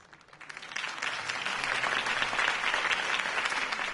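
A crowd in the Batman Telltale video game breaks into applause that swells from a faint start into steady, dense clapping with a light cheer, no talking over it.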